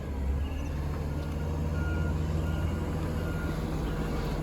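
A Miller Waste CNG Freightliner M2 garbage truck with a Leach 2R-III body making a tight turn on a residential street, steady reversing beeps sounding over a low idling engine rumble.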